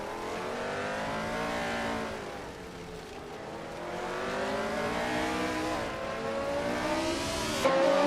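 Several race cars in a racing video game, led by a classic 1975 Brabham BT44B, roar off the start at the Super 8 track, their engines rising and falling steadily through gear changes, loud and continuous.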